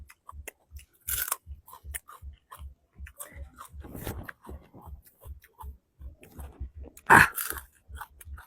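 Raw bitter gourd (karela) being chewed close up, a steady rhythm of wet, crunchy bites repeating for several seconds, with one louder crunch near the end and no talking.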